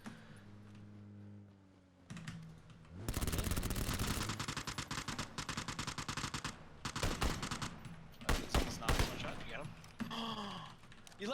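Dense bursts of rapid video game gunfire, loud and close, rattle on for about eight seconds after a quieter opening, with voices talking over the shooting.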